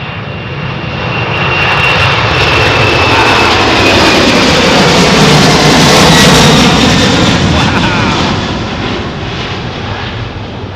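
A 400-series jet airliner on a long takeoff run, its engines roaring loud and broadband, swelling to a peak and then slowly fading as it passes. Anchorage airport setting.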